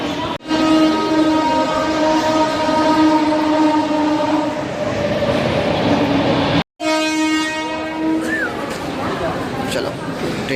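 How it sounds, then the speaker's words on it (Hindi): A commuter train pulls into Thane station with a long, loud horn blast over the rumble of the wheels and platform bustle. The horn briefly cuts off and then sounds again as the train draws near. "चलो ट्रेन भी आ गई"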